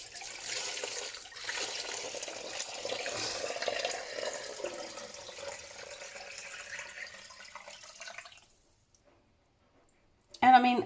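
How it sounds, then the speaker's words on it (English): Chicken stock tipped through cheesecloth to drain, a continuous close pour and trickle that fades out near the end before a short loud clatter, with a voice talking over it. "I'm going to tip this into there and let it drain."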